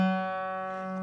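A guitar's G string plucked once, a single clear sustained tone ringing out close and alone, slowly fading.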